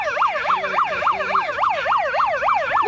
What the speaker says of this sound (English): why do they have police sirens if they want to defund the police?